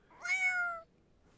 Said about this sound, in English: Just like that, the Griffins have a cat